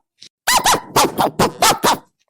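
A police dog barks near a latrine: five or six loud, close barks in quick succession after a short faint yelp, with no talking.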